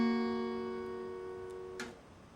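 A single sustained slide guitar chord, played at the 4th and 5th frets, rings out quietly and slowly decays, with a brief slide or string scrape near the end.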